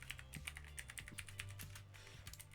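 Code is typed on a computer keyboard in quick, uneven bursts of close, crisp key clicks with brief pauses between runs.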